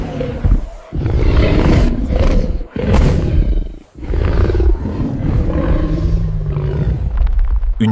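Lions in a den roar loudly and close, in several long, rumbling roars separated by brief pauses, deep and powerful, with no speech over them.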